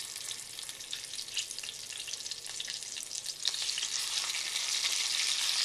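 Brussels sprouts and pancetta fry in a hot pan with a steady, bright sizzle that swells louder toward the end, with no voices.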